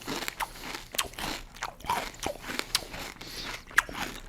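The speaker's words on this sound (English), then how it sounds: "A little extra crunch in a cereal is never a bad thing" Kellogg's Vector high-protein cereal is crunched in the mouth, producing repeated close, crisp chewing crunches in an irregular rhythm, with no speech over them.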